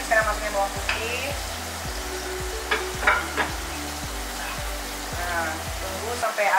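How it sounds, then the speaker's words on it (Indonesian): Shallots and garlic fry in a hot pan with a steady, close sizzle and occasional scraping stirs, while a low, regular mechanical hum pulses underneath and a voice speaks faintly. "Oke, bawang merah udah dimasukin, sekarang masukin bawang putih."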